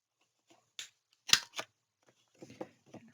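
A handheld corner rounder punches the corners of photo cards for a mini album, giving a few sharp, close crunching snips separated by quiet pauses and some light paper handling.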